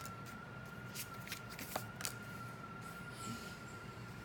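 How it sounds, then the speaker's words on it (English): Board game cards are handled and flipped over on a table, giving a few soft, quick papery flicks and taps, faint and close in a quiet room with a steady tone behind them. "2 of these cards are going to get flipped over"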